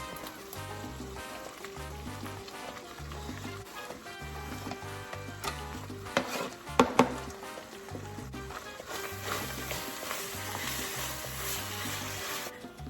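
Garlic and chopped vegetables sizzle in a hot pan as the base for Mexican cowboy beans, a steady crackling fry with a few sharp clatters of stirring midway, heard under a looping background music track.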